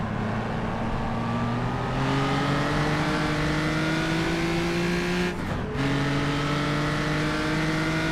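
Race cars in a historic road racing championship roar steadily in close quarters, engine pitch climbing through gears with one brief shift break, a loud continuous drone from inside the car, no talking.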